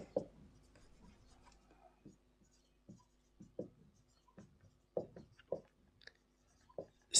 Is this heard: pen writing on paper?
yes